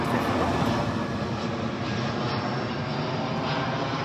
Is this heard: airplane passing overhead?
yes